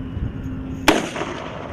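A single sharp, loud blast from an M3 Carl Gustaf recoilless rifle firing, followed by a brief rumbling decay; a steady tone and background noise precede the shot.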